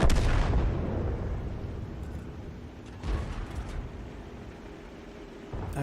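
Artillery fire in a video game: a heavy boom opens, decays into a long rumbling tail, then a second, softer blast with crackling debris follows about three seconds later.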